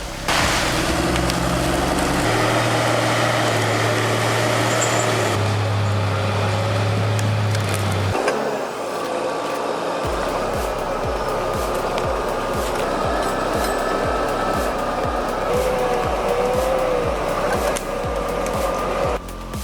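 A heavy logging forwarder drags pine logs, its engine droning loud and steady throughout, with woody creaks, splintering crunches and rhythmic mechanical knocking as the timber is pulled and fed.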